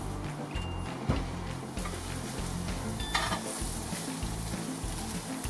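Onions fry in a pot for a winter stew: a steady, close sizzle with occasional stirring scrapes and soft knocks against the pot.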